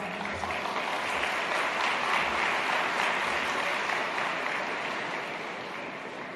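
An audience breaks into sustained, dense applause to welcome Dr. Tariq Ramadan to the stage at a lecture event, the clapping loud and even throughout before slowly tapering off.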